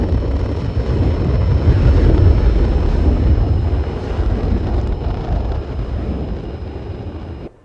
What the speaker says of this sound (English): that's the new aircraft sound